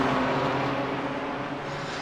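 A BMW race car in a racing video game roars close by at high revs, its steady engine drone easing slightly as it moves past, loud and alone.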